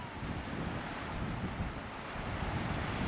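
Steady wind blowing through the Australian bush, a constant rushing roar with low rumbling gusts against the microphone, filling the whole moment without voices.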